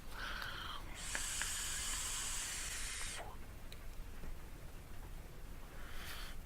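An e-cigarette vaping Lizzy Rascal e-liquid by Halcyon Haze gives a steady, close airy hiss lasting about two seconds, with a faint crackle before it and another brief puff near the end.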